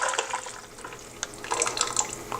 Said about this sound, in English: So very carefully pour the soup back in.